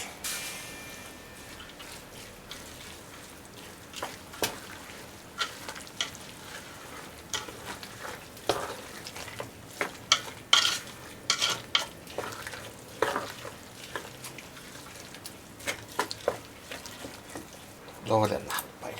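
Chopped onion and carrot fry in a pan alongside apple, celery and basil, soft sizzling broken by frequent clattering stirs and scrapes, with speech at times.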